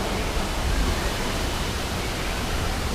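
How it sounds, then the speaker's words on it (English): Steady, dense rush of a waterfall at Shanghai Disneyland, loud and close, a broad unbroken roar with no pauses or voices. "over on the other side is that there's a waterfall going through"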